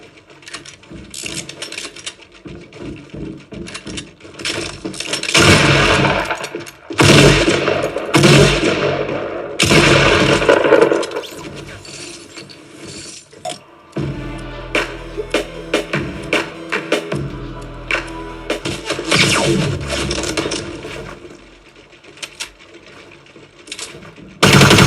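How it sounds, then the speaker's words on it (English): Rapid automatic gunfire and clattering shots from Fortnite gameplay on a PS4, loud dense bursts nearly continuous throughout, with no talking. "here's a quick gameplay test of Fortnite"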